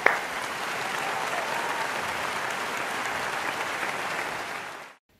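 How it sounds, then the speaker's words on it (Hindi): Sustained, steady applause from a large audience welcoming investor Ramesh Damani on stage, a dense even wash of clapping that starts with a sharp onset, holds for about five seconds, then cuts off abruptly into silence. "जोरदार तालियों के साथ हम मिस्टर दमानी का स्वागत करें"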